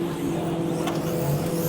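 Drift cars idle and blip their throttles at a Japanese car festival as a tandem run lines up, a steady low engine drone with a brief sharp rev burst, heard amid outdoor crowd ambience.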